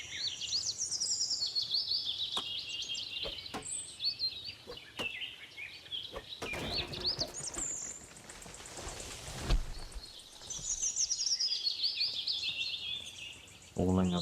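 Birds singing in the video game Bannerlord Online, with bright chirps and warbling phrases repeating throughout and a few sharp knocks scattered between them, moderately quiet.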